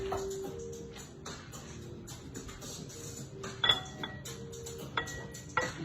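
A pan of biscuits and sausage gravy is set down into a bowl, giving a few light metallic clinks and knocks near the end over a quiet kitchen background with faint tonal hum.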